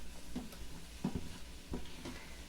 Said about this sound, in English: we're going to saute this for about another 30 seconds with the spices